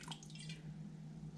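Apple cider vinegar poured into a crock pot for chicken bone broth, a short wet trickle and drip of liquid up close, with a steady low hum underneath.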